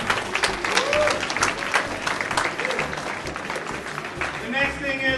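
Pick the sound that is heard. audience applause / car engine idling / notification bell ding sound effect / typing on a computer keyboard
audience applause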